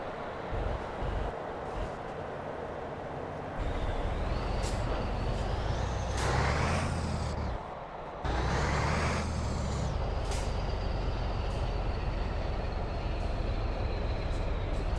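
A heavy Scania R2009 truck in Euro Truck Simulator 2 labours under load with a low, droning engine rumble, punctuated by rising whining tones and a sharp air-brake hiss midway, loud and steady throughout.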